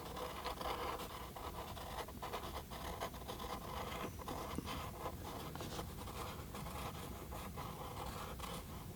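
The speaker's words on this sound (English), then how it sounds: "I'm doing is basically just drawing it again, tracing over the lines that I was using." Pencil or brush tracing over lines on paper during a sunflower and vase watercolour drawing, a close, quiet, continuous scratching with short repeated strokes and no talk.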